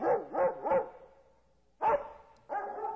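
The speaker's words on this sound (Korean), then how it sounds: "사슴 같은 개 한 마리가 사비야 언덕에 와서 왕궁을 향해 짖더니" A dog barks in a sound effect: three quick, close barks in a row, a pause, then two more separate barks, clear against silence.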